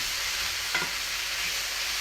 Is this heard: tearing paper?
no